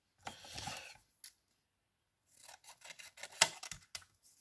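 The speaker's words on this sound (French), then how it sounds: "On va pouvoir tout découper." Scissors snip through paper while cutting out art journal ATC cards, a burst of rasping cuts followed by a pause, then a run of short crisp snips and rustles close up.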